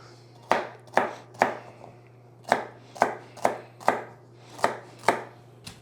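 Knife chopping onions on a cutting board in a home kitchen, ten sharp evenly spaced chops in two short bursts, close and clear with no talking and a steady low hum underneath.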